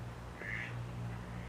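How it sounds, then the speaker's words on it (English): A duck quacks once, a short nasal call at a moderate distance, over a steady low background hum near a river. "Thanks to the duck for signing us out as well"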